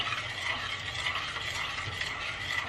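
Stirring pasta sauce in a pot for lasagna, a steady soft scraping and swishing that runs continuously at close range with no voices.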